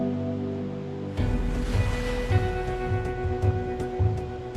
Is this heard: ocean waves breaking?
yes